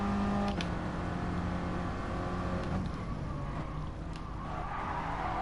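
Mini race car in a racing video game at Interlagos, engine climbing through the gears with a steady buzzing drone, brief shift breaks and tyre noise, played loud and alone.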